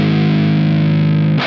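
A distorted electric guitar sounds one sustained, heavy open E note through a Digitech Drop pedal set to drop G sharp, loud and droning before being cut off.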